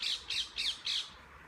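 Four short bright squawking bird calls in quick, evenly spaced succession, fairly close and clear, during an evening outdoor poetry reading, with no voices over them.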